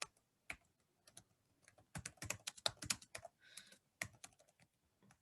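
Someone types on a computer keyboard while writing a Python print statement, a close, quiet run of irregular key clicks in uneven bursts, with a few brief pauses between clusters.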